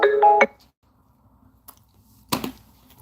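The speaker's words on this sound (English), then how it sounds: "That's the second phone call during a live stream." A phone ring tone chimes in a short melodic burst at the start, with a later brief noisy rustle, during an otherwise quiet live stream.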